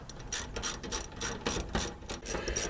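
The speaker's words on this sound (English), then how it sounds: "So nuts are going back on. Obviously don't over tighten them." A ratchet clicks in short bursts, tightening nuts on a fuel tank sender of a Fiat Ducato or Peugeot Boxer van, close and crisp, with brief pauses between strokes.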